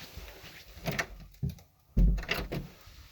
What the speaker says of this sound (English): Just let me shut the door for a quick second.